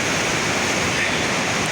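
A spring-fed stream runs in a steady, loud, dense rush of flowing water with no break or voices.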